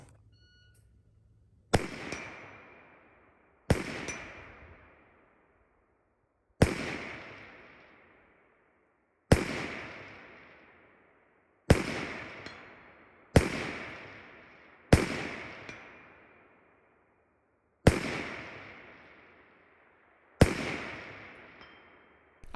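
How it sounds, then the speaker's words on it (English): Ten sharp, loud rifle shots from a SCAR 17S fired at 200 and 300 yard targets, spaced a couple of seconds apart, each cracking hard and trailing off in a long echoing decay. "I decided to take some extra shots on the 200 and 300 yard targets"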